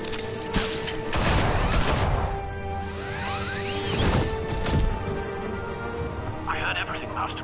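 Gunfire in the Batman: The Telltale Series game, bursts of rapid shots and crashing impacts mixed with whooshing action sounds, loud and close, with voices shouting over the fight.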